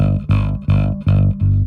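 A bass guitar note fretted directly on top of the fret repeats four times in a steady rhythm, each pluck a loud, thick low tone with a slightly buzzy edge, heard alone without talk.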